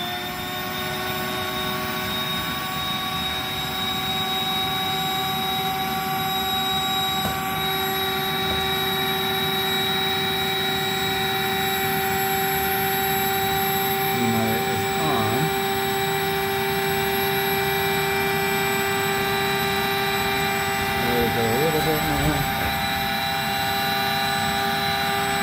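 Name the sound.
electric pump inflating an AlwayzAire air mattress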